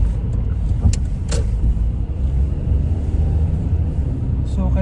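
Dense rush-hour car traffic around a driver changing lanes, a steady low rumble of engines and tyres with passing vehicles, close and fairly loud, while someone talks over it.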